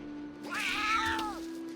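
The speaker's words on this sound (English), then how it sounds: "I want to be able to have cats hiss without it just immediately becoming a fight." A single drawn-out cat meow from The Sims 3, a rising then falling yowl over a constant electronic hum, clear and fairly close, with no talking.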